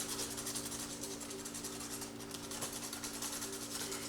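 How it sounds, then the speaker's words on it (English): Coarse abrasive rasp of 100 grit sandpaper rubbed steadily against paper during a watercolor painting session, a continuous close scratchy hiss with faint tonal hum beneath and no voices. "We have our 100 grit sandpaper"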